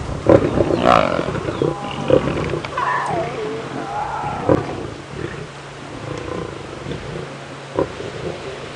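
A lioness of the Nkuhuma Pride on a safari drive roars and snarls at other lions, with loud, ragged growls and sharp bursts close by amid rustling and low rumbling.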